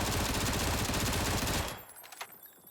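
Rapid automatic fire from a FAMAS rifle in the PUBG video game, a dense, loud continuous burst that stops abruptly, leaving a fading echo and a faint click or two afterward.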